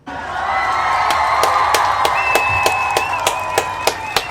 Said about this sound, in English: I want to give all of the Kuumba babies a round of applause